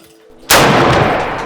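An old gun fires a single loud, sharp shot at a shooting range, its blast ringing out and decaying slowly after a quiet moment.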